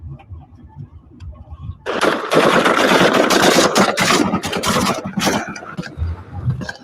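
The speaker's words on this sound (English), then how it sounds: "This is the drive-by shooting against Basijis." Gunfire from a drive-by shooting targeting Basij militia members in Iran, a loud sustained burst of rapid shots that erupts suddenly after a quieter stretch with a running engine, then tails off into scattered cracks.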